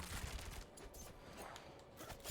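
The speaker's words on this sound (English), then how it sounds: "Something so nice about just shooting them all rapid fire with like a crossbow." Rapid crossbow fire in the video game Diablo 4 comes as a quick run of sharp, punchy shots with impact crunches, fairly quiet and fired in fast bursts.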